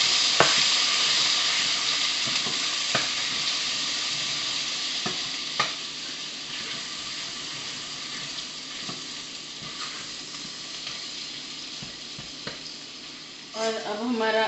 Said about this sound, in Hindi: और इसको हिलाएंगे।